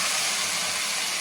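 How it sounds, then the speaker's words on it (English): Wine hitting a hot cooking pan and steaming off, a brief, steady, loud hiss with no talking. "See that the alcohol is steaming off."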